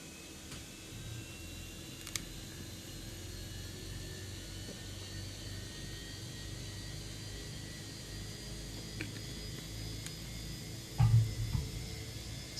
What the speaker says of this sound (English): Starting engine 2.